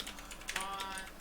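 Quick computer keyboard typing during a tabletop Dungeons & Dragons session, a brief soft patter of keys over a steady background hiss.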